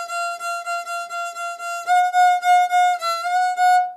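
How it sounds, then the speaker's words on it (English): Fiddle bowing a repeated F natural on the E string in a sequence of separate, clear sustained strokes, with a stronger series of bowed notes in the second half, played solo with no talking. "the F natural on the E string would sound like this"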